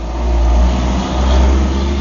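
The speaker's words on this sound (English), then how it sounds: "sorry about that truck" A truck rolls past close by, a loud low rumbling engine that swells and holds for about two seconds, heard without speech.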